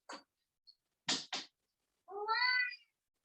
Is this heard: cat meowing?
yes